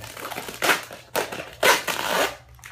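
Polycro hexayurt tape being cut: a few close, crinkly crunching bursts of plastic film in separate strokes with brief pauses between, fairly loud against a quiet background.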